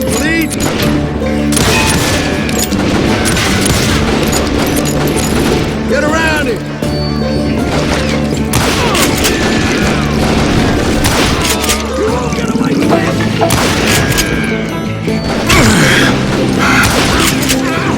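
Dense gunfire and booming blasts from many hired guns in the Western shooter Call of Juarez: Gunslinger, a loud, continuous barrage of shots and thuds with music and talk mixed underneath.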